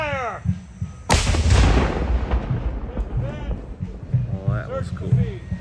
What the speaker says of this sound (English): The cannoneers are getting ready to launch.